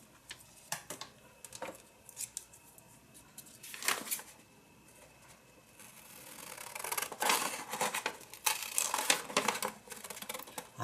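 Scissors cutting paper along a folded line for a mixed media journal spread, a series of crisp snips and rustles growing busier and louder toward the end, close up with no voices.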